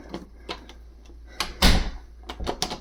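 A few short clicks and clacks at an interior door, with a sharper louder knock near the middle and more quick clicks toward the end, close by in a quiet room.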